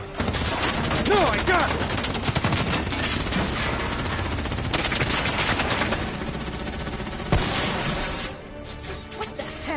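Dense automatic gunfire and scattered shots from the Call of Duty 3 campaign fill the scene, loud and continuous with crashes mixed in, while a voice shouts briefly over the barrage.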